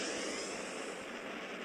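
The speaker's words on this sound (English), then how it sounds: "Starting warp engine. Give me a damage buff and I'll be happy Commencing to go warp." A warp engine spins up in the space game Space Captain, a steady, loud, broadband whooshing roar like a jet engine that holds evenly throughout, with no voices.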